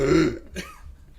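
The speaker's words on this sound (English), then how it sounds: "keep burping" A person burping, one deep throaty belch up close that fades into a short rough exhale.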